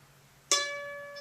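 A single plucked mandolin D note, fretted at the fifth fret on the A string, with a sharp bright attack that rings and slowly decays, heard alone.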